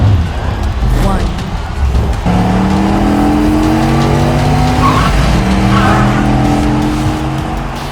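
Toy Hot Wheels cars, a Dodge Viper RT10 and a 1969 Dodge Coronet Super B, speed down a double-lane curved track with a continuous rolling whir and rising tonal whine, loud and close throughout.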